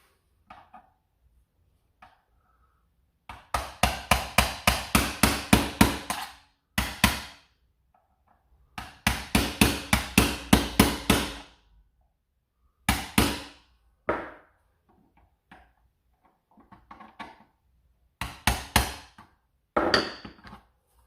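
A punch is struck with a hammer while an S200S Viper is being upgraded, giving bursts of rapid, sharp metallic taps close up, about eight to ten blows each, separated by short quiet pauses and a few isolated knocks.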